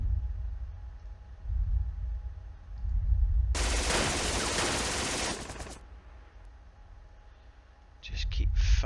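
A loud, sustained burst of machine-gun fire aimed at infantry, lasting about two seconds amid battle rumble, with voices heard around it.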